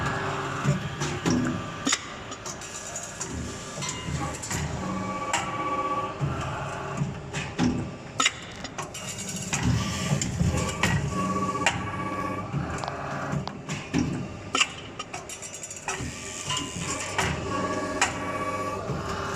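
A QLQ-DTM plastic zipper teeth injection machine runs in a factory, producing repeated mechanical clacks and hisses over a steady hum, with irregular rhythmic bursts throughout.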